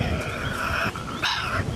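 A Tasmanian devil growls and yips close by, rough, strained vocal bursts with a brief pause before a sharper cry, loud and alone.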